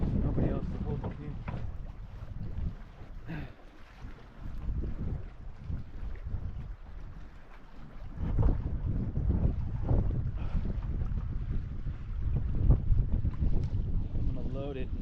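Steady, loud wind gusts across a lake shore as a canoe is loaded, roaring and buffeting close to the microphone throughout, with occasional bumps and faint handling noises underneath.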